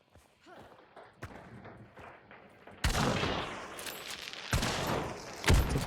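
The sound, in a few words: bomb lance weapon firing in a video game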